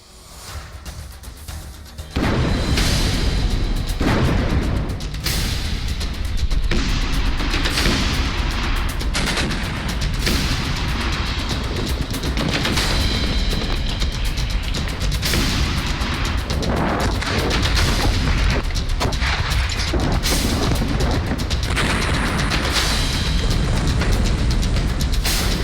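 Gunfire and explosions from a missile attack in the Russia–Ukraine war, starting abruptly after a quiet moment and then a loud, dense barrage of booming blasts and rapid shots that continues without pause.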